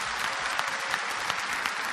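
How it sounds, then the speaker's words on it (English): A lecture audience at a religious talk breaks into applause: dense, steady clapping from many hands, fairly loud and sustained throughout. "MashaAllah, you're clapping."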